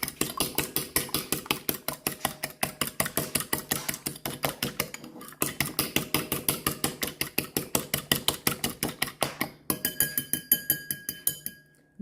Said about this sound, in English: So let's beat our 1 piece of egg using our fork.